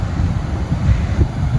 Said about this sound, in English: How beautiful to be able to sit and hear these waves.